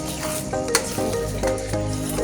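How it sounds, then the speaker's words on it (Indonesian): Wonton filling seasoned with salt, flavour enhancer, sugar and pepper is stirred in a hot pan, with a steady sizzle and repeated scraping strokes throughout, close and continuous with no voices. "Selanjutnya aduk-aduk hingga tercampur rata."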